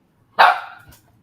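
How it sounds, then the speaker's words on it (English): A single loud, close dog bark bursts out and trails off in about half a second, with no talk around it. "That is a loud ass dog"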